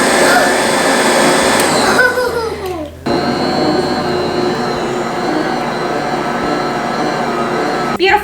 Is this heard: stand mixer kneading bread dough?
yes